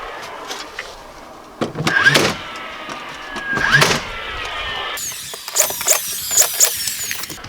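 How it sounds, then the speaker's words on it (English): Sharp, percussive bursts from a brad nailer face-nailing the last pieces of cedar siding, a few spaced shots with a faint mechanical whir and clatter between them, close and fairly loud. "Little brad nail, and like I said, just face nail those last two pieces"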